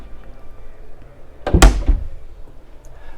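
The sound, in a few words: storage locker door opened on Flipper 900 ST boat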